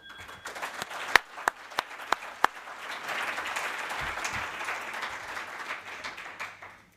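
Symposium audience on heart transplantation breaks into applause, beginning with a few sharp separate claps and then swelling into sustained, moderate clapping from many hands across the room.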